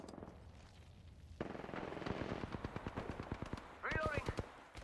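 Rapid automatic gunfire in a video game, a fast rhythmic string of sharp shots building into a sustained burst, fairly close, with a brief whining sound near the end and voices calling out over the shooting.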